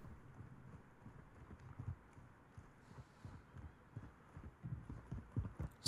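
Footsteps in Warzone 2 thud in a quick, soft, irregular run of muffled low impacts, faint under a low game hum, with no talking.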